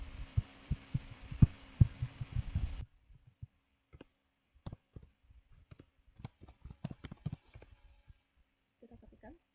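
Sharp, uneven clicks of typing on a computer keyboard sound close and dry, arriving in irregular clusters after a brief stretch of background noise.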